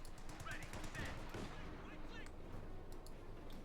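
Machine gun fire in Company of Heroes 2, a Wehrmacht versus US Forces match, rattling in rapid bursts amid dense, continuous battle noise with other gunfire mixed in.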